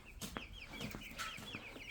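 Egg-laying hens cluck close by in short, repeated bursts of soft calls over a quiet, faint background.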